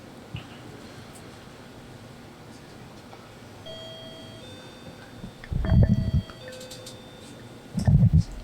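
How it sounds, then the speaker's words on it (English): A bell rung by a player at a snooker tournament, the 2022 United States National Snooker groups, gives two loud bright rings about two seconds apart over quiet hall ambience and faint tones. "Stephen Wong rang the bell."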